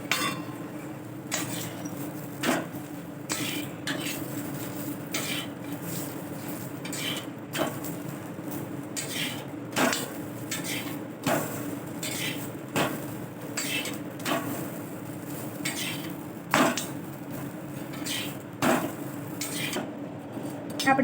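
Papad roasts in a pan with a little oil, marked by repeated sharp metallic clacks and scrapes every second or two over a low steady hum. The sound is close, with no clear talking.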